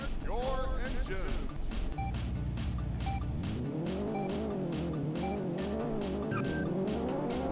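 Race car engines start and rev in the video game Battlemorph, with tire squeals early on and a steady pulsing motor drone continuing loudly throughout.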